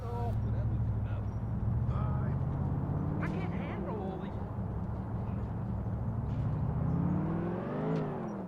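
Lamborghini engine revving and accelerating in GTA IV, a loud, sustained motor roar with rising pitch sweeps, close and continuous throughout.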